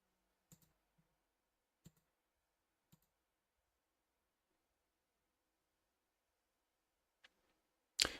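Mouse clicks while playing online poker on four tables: a few sharp, isolated clicks spaced seconds apart in a quiet room, followed by a louder burst at the end.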